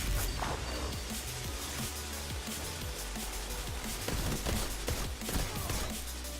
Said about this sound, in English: He's using that freaking gun.